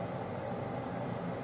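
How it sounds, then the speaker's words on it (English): A bathroom exhaust fan hums steadily in the background, a constant broadband whir with no change in level throughout. "I apologize for the fan in the background"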